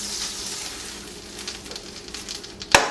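Grass-fed butter sizzles in a crepe pan with a close, steady crackle, followed by a sharp clack of a utensil near the end.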